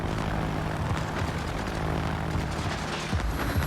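Fighter aircraft launched from a carrier in the naval video game World of Warships, a steady droning propeller-engine roar that holds at a constant loud level throughout, with no talking.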